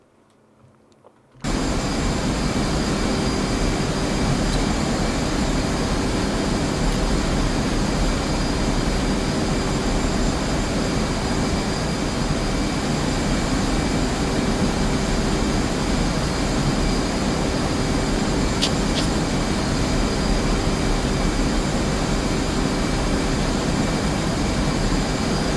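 An F-5 or F-18 fighter jet engine in the DCS flight simulator drones loudly and steadily after a brief quiet start, a broad roar with a faint high whine running unbroken throughout.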